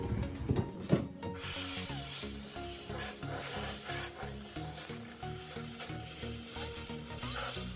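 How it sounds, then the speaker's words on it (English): Compressed air from a compressor blows dust out of a PC case in a loud, continuous rushing hiss over a low, pulsing mechanical drone. A few sharp handling knocks come at the start. "you can obviously clean those out as well using the compressed air"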